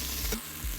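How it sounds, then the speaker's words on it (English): Sweet potatoes sizzling in a pot while being stirred, a steady fry hiss with a brief scraping sweep of the utensil partway through. "At 3 minutes in, and we are gonna stir these taters."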